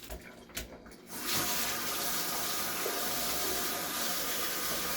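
A kitchen sink faucet runs steadily over pork tenderloins being rinsed, a broad continuous hiss and splash that starts after a second of faint handling noises and stays constant and close.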